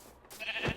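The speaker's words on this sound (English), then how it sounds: "Sheep!" A Minecraft sheep gives a single short, nasal bleat, fairly close and clear, after a brief quiet moment, with no talking over it.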